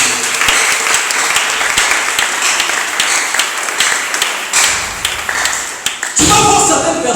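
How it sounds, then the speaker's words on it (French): A church congregation bursts into sustained, loud applause that swells and thins over several seconds, mixed with scattered clapping and cheering voices. "Acclamons pour la gloire de Jésus"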